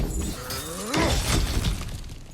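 Objects smashed in God of War Ragnarok, a loud breaking crash with a shattering burst and a low groaning tone underneath, filling the short moment.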